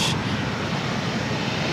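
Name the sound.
airplane at LAX airport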